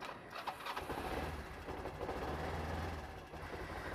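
A dropped motorbike's engine turns over and catches, settling into a steady, loud low rumble that runs throughout with no speech.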